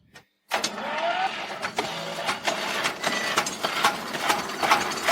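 An old dumper's engine starts after a brief silence and then runs steadily, close by, with a rattling, ticking mechanical clatter and an uneven idle.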